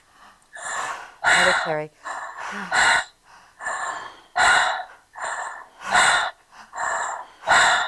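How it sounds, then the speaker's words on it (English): Rapid, forceful breaths in and out during a guided breathing exercise, in a steady pulsing rhythm of sharp gasps, close and loud. A voice briefly speaks over them. "So we're going to keep breathing for another minute or two if you can hang on and handle it."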